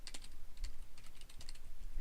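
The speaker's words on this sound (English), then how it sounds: "I actually use my fingers on the keyboard and go" Fingers typing on a computer keyboard, quick irregular bursts of light close clicks and clacks, heard alone without speech.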